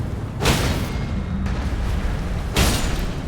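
Broadband booms from a video game explosion burst out twice, at the start and near the end, over a steady background rumble of game audio.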